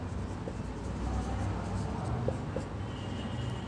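Pen drawing on paper in a copy book during a maths lesson, a steady soft scratching and rubbing close by with light strokes and a few faint ticks, over a low constant room hum with no talking.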